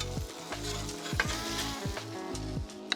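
Smash burger patties and buns sizzling side by side on a grill, a loud close hiss with spitting crackles over a low rumble, no talk.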